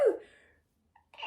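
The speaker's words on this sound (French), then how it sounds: "Commencez à me connaître avec mes éternuements." A single sharp sneeze bursts out close up at the very start and fades into quiet, followed by a faint breath or small noise.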